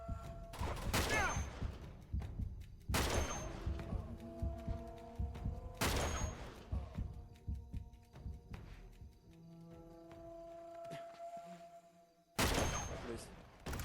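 Sniper rifle gunfire in Uncharted 2, four loud, sharp shots spaced a few seconds apart, with the last one near the end, over a busy game background of clatter and rumble.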